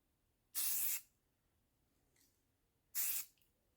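Spray paint hisses onto a rifle in two short, loud bursts about two seconds apart, with quiet between them and a faint third puff in the middle.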